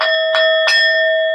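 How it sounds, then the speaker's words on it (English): A bright bell is struck three times in quick succession, each ring layering onto a steady, sustained ringing tone, close and clear with no voices. "I got to give y'all the bell."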